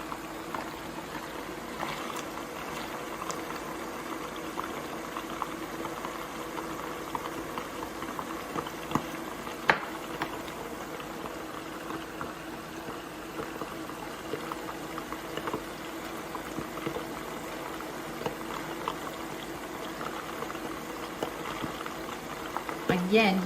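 Homemade meatballs fry in hot olive oil with a steady, soft, continuous sizzle and bubbling, quiet and even throughout with faint background sounds.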